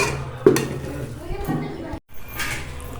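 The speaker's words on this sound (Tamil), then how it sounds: "ஒரு பக்கம் ஒரு கடாயை வச்சாச்சுங்க." A kadai, an Indian wok, is set down on a stove in a home kitchen during Pongal cooking, giving a sharp metallic clank followed by further pan and utensil clatter.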